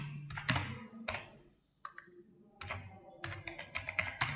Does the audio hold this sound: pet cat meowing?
no